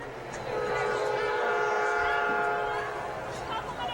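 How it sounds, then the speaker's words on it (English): A Metro train rumbles past behind a women's college soccer field during a Wheaton vs Claremont match, its horn tones sustained and fairly loud, with a commentator talking over it. "as the Metro train passes behind us"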